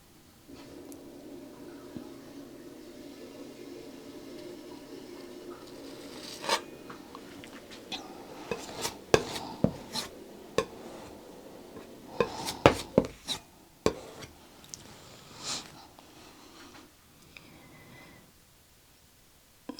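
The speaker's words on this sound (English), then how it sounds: "I'm just letting that palette knife graze the canvas." A palette knife grazes wet oil paint on canvas with almost no pressure, making faint scraping strokes over a soft background, with sharper ticks and taps clustering in the middle and later part.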